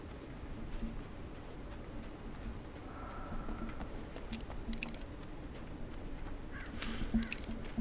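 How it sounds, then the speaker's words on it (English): Crows cawing in the video game Alan Wake, short calls scattered over a steady ambient bed of outdoor noise, with faint ticking and a few higher chirps toward the end. "Birds."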